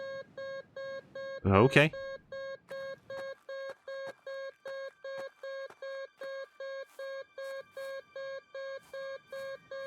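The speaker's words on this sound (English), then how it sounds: "this is not an alarm going off where you're working. This is, the metal detector." In the game Kathy Rain, a metal detector emits a steady run of evenly spaced electronic beeps, loud and close and repeating about twice a second; a voice speaks briefly near the start.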